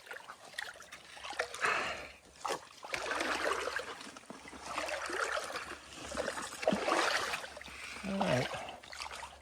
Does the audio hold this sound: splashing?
yes